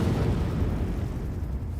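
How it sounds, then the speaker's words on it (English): Jack units blow up in a Tekken cutscene, a loud, dense rumbling explosion that fills the whole moment and keeps roaring without pause. "The Jack units explode, killing Heihachi and burying his body in his own dojo."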